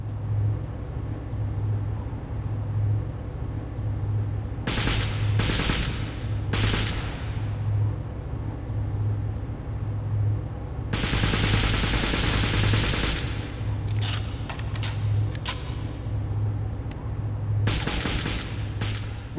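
Ruger MP9 submachine gun bursts in the James Bond 007: Nightfire video game, loud rapid automatic fire in several sustained volleys over a constant engine-like drone.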